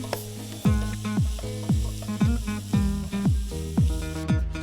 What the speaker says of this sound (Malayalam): ഈ ചൂടെണ്ണയിൽ തന്നെ ഞാൻ ഈ ഉള്ളി അങ്ങ് ഇടുക